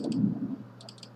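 A computer mouse gives two quick clicks, then a faster cluster of four or five crisp clicks near the microphone over a low background hum, with no talking.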